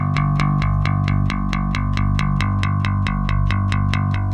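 A bass guitar played through an Ampeg amp hammers a steady, driving line on an open A string. The eighth notes are loud, even and distorted, with no voices.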